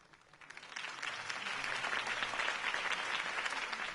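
A video game crowd bursts into sustained applause after a political campaign speech, building quickly from a few claps into a dense, steady wave of clapping and cheering that carries on without pause.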